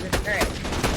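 Turret machine gun fire in an Xbox video game, a few sharp bursts in quick succession at moderate volume, with game sounds between them.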